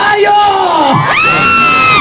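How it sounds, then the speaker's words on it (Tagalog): Crowd at a live hosted event in Hong Kong shouting and whooping loudly, voices sweeping up and down in pitch in a brief close burst of cheering. "Parang ang hina ng sigawan."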